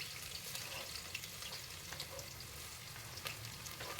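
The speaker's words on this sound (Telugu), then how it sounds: "ఆనియన్స్ దగ్గరుండి మాడకుండా బాగా కలుపుతూ ఉండాలి" Sliced onions and green chillies fry in hot oil with a few cloves, giving a steady, close crackling sizzle throughout with occasional stirring sounds and no voices.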